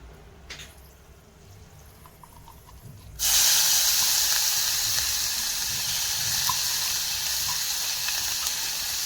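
Onions and fenugreek seeds drop into hot oil in a pan for a long beans curry, setting off a sudden loud, steady sizzle that starts about a third of the way in after quiet and continues to the end.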